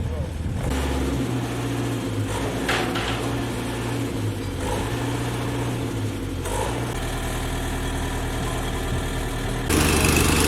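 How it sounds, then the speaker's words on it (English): Pumps fill a 6 ft AquaDam braced by steel sheetpile at Tomales Bay, California, with a steady mid-to-low engine drone running throughout. A voice talks over it, and the sound grows louder near the end. "the pumps are running, and we're filling her up"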